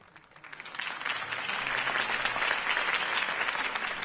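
A video game crowd claps and cheers loudly and steadily, applause swelling in the first second and holding strong throughout.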